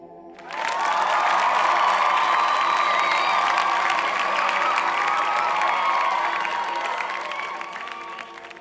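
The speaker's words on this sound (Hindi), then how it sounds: "सुने तालियों की ये गड़गड़ाहट जो आज आपके लिए बजाई जा रही हैं" A sudden burst of thunderous audience applause with crowd cheering and whoops, swelling fast and holding loud, then slowly tapering off after a speech at a speaking event.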